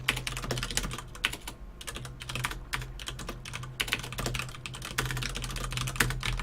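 Rapid keyboard typing while playing a StarCraft II Zerg versus Protoss match, a continuous run of close, crisp keystrokes with irregular rhythm and small pauses, over a steady low electrical hum.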